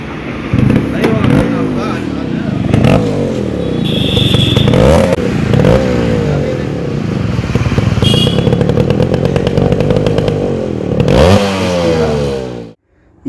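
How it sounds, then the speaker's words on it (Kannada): A restored 1999 Suzuki Samurai two-stroke motorcycle runs close by, its exhaust giving a loud, buzzy rattle that rises and falls through several revs before cutting off; someone talks over the engine throughout. "ಈ ಗಾಡಿ ಎಕ್ಸಿಟ್ ಸೌಂಡ್ ಯಾವ ಥರ ಇದೆ ಅಂತ ತೋರಿಸ್ತೀನಿ"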